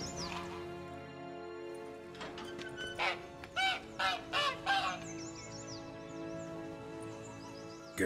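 Caged hen in The Witcher 3 clucking and honking in a burst of several loud calls over a steady game ambience with a faint background tone.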